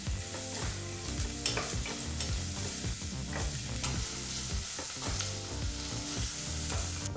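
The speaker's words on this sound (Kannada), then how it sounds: "ಬಿಸಿಯಾದಂಥ ಎಣ್ಣೆಗೆ ಈ ರೀತಿ ಬಹಳ ಚಿಕ್ಕದಾಗಿ ಕಟ್ ಮಾಡಿದಂಥ ಒಂದು ಈರುಳ್ಳಿನ ಹಾಕಿ, ಮೀಡಿಯಂ ಫ್ಲೇಮ್ನಲ್ಲೇ 2 ನಿಮಿಷಗಳ ಕಾಲ ಈರುಳ್ಳಿನ ಫ್ರೈ ಮಾಡ್ಕೋಬೇಕು" Finely chopped onion sizzles steadily in hot oil over a medium flame, a loud, continuous crackle with occasional stirring scrapes close up.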